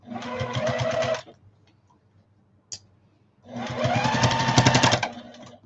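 A sewing machine top stitches a fabric shopping bag in two rapid, rhythmic runs of about a second and two seconds, with a quiet pause and a single click between them, close and clear.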